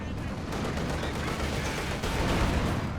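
Tank gunfire in the Company of Heroes 2 video game, with dense, continuous shots and explosions rolling together in a loud, unbroken battle din, and no clear voice above it.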